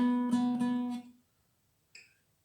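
A single plucked guitar note, B on the G string at the fourth fret, rings clearly for about a second and fades, followed by a brief, faint higher pluck.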